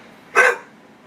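A dog gives a single short, loud bark up close, one brief burst standing alone against quiet background.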